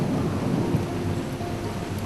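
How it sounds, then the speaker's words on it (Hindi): Low, steady thunder rumble mixed with rain, fairly quiet and even, with no distinct crack, carrying on without voices. "कड़कड़ाती बिजली की तेज शेर जैसी दहाड़ की आवाज मुझे सहमा रही थी।"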